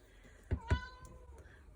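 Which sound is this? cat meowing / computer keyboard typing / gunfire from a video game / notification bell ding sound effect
cat meowing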